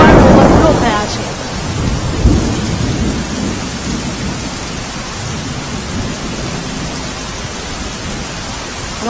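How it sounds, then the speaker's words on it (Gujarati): Heavy monsoon rain pours down steadily in Umarpada, Surat, with a loud rumble of thunder at the start, then a dense, constant wash of rain. "સવારથી જ ધોધમાર વરસાદ વરસતા ચેકડેમ પણ ઓવરફ્લો થયા છે"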